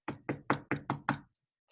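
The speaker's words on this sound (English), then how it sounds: "And Meg, still hearing nothing, knocked yet again." Six sharp knocks on a wooden door in a quick, even sequence, close and clear, followed by silence.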